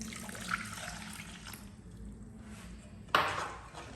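Tap water poured into a bowl, a steady close splash and trickle that thins out briefly midway, then returns with a brighter gush near the end, no voices.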